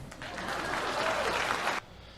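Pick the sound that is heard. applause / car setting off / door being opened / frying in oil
applause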